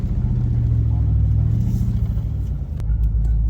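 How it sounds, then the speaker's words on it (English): An off-road vehicle spins its tires in mud while overlanding, with a loud, continuous low engine rumble throughout and a brief sharp knock near the end. "We get to spin our tires a little bit"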